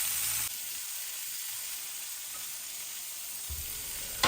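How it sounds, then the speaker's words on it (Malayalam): Kora fish frying in a pan makes a strong, continuous sizzle and crackle, loud and close at the start and end and a little softer in the middle, with no one talking. "അപ്പോൾ ഇതാ മീനൊക്കെ ഒന്ന് ഫ്രൈ ആവാൻ വേണ്ടി വെച്ചിട്ടുണ്ട്."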